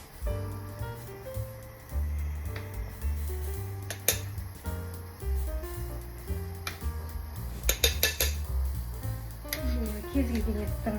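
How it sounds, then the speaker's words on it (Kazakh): A ladle clinks and scrapes against a pot while foam is skimmed off boiling horse meat for Kazakh beshbarmak. A few sharp metallic taps stand out over a steady tonal background. "Сол еттің бетіндегі көбікті біз жақсылап алып тастаймыз."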